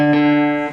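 A single plucked guitar note on the A string at the fifth fret, clear and close, with a bright attack, a rich ringing sustain and a gentle fade under a second.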